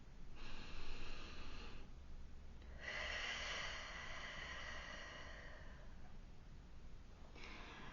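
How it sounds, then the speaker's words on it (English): A slow, deep breath drawn in and let out, soft and close with a quiet hiss of air, followed by a second long exhale and the start of another breath. "take a deep breath with me"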